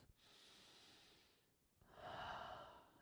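Slow, soft breathing during a beginner yoga flow, a long airy exhale, a brief pause, then a stronger breath, close and faint.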